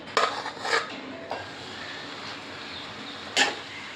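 Basmati rice cooked a day earlier tipped into a pan for chicken fried rice, with a few sharp metal clinks and clatters of utensils against the pan, separated by quieter gaps.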